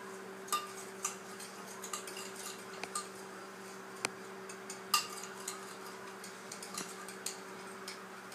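A spoon or utensil clinks and taps irregularly against a bowl while seasoned food with cheese is stirred. The sound comes as sparse, sharp little knocks over a steady electrical hum, with no talking.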